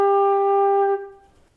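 A single sustained flute note G rings out steady and clear for about a second, then stops with a brief room decay.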